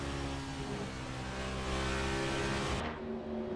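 A race car engine in Assetto Corsa roars close and loud, holding a strong harmonic drone that rises steadily as the car accelerates, then drops sharply near the end as the throttle lifts.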